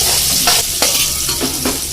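Boiled mutton dropped into a hot pot of oil for harissa, giving a loud, continuous close sizzle with a few stirring scrapes and clatters against the pot.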